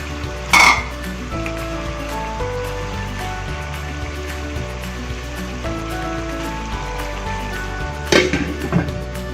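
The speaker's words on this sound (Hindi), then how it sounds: "थोड़ी यखनी है वो ऐड कर देते हैं, इससे आलू पक जाएंगे" Stock poured into a pot of aloo methi, potatoes and fenugreek, with a splash of pouring at the start and again near the end over a steady bubbling simmer and faint background music.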